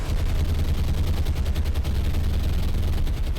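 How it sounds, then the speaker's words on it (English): Aircraft strafing gunfire in the naval combat game War on the Sea, Hurricanes diving on unarmoured merchant ships. A dense, continuous roar of rapid fire with heavy low rumble fills the whole stretch at steady loudness, no voices. "their strafe runs on the unarmoured merchant ships will be devastating"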